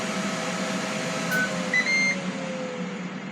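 A Ninja Foodi XL Grill running while it cooks English muffin pizzas, giving a steady fan-like whir with a faint hum and a few thin tonal whines, close and continuous with no voices.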